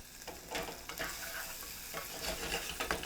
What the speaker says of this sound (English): They'll start to fry.